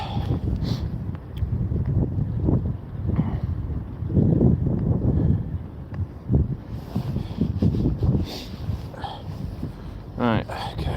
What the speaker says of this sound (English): Bloody wind.